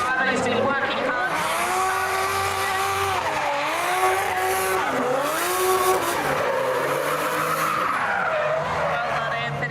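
Drift cars battle at a Superdrift competition, engines roaring and wailing with rising and falling revs as tires squeal continuously through the run, loud and sustained with a commentator talking over the noise.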